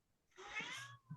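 A cat gives a single drawn-out meow at moderate distance, rising then fading, followed by a soft brief sound near the end.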